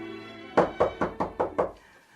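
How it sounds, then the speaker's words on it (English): Six firm knocks on a wooden door, evenly spaced in a quick steady rhythm, close and fairly loud in a quiet room, with no voices. "there was a knock at the door"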